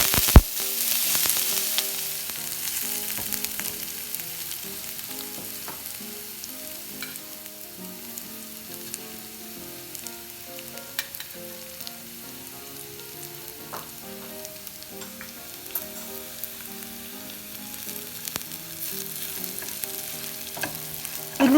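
Chili flakes frying in a hot pan for a green gram side dish: a steady, close sizzle and crackle running throughout, with occasional light clinks of stirring and no talking.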